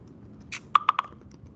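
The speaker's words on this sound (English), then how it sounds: "I'm typing something" A computer keyboard being typed on gives a quick run of three or four crisp, close key clicks in an otherwise quiet room.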